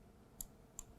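Computer mouse clicks while editing an image, three crisp, close, faint clicks spaced apart over a quiet background.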